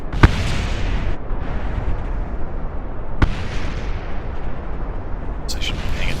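A giant rocket launching in Kerbal Space Program makes a loud, dense roar that runs throughout, punctuated by two sharp bangs near the start and midway.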